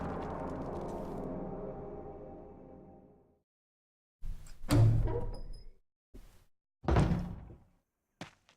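In the video game Resident Evil Survivor, a door opens: a long fading mechanical rumble trails off into silence, then heavy thuds and creaking clunks follow in a few separate bursts.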